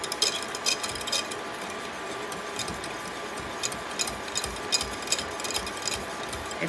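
A spoon stirs a pudding mixture in a pot on the stove, giving soft repeated scraping and light clinking ticks at an irregular steady pace, close and moderately quiet over a faint hum.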